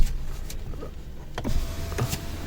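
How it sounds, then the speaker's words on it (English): One-touch power window on a 2022 Citroen C3 sliding down, a faint whirring motor hum under scattered small clicks and thumps inside the car, with no voices. "So one touch down function for all windows is available on this wheel variant"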